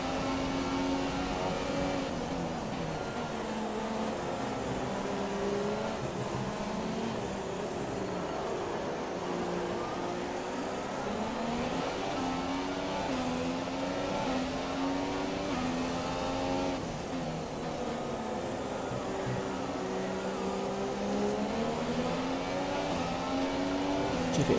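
A Formula 1 race car engine in the F1 2017 game on the Singapore circuit, a loud continuous high-pitched whine rising and falling through gear changes for the whole stretch, with no talk.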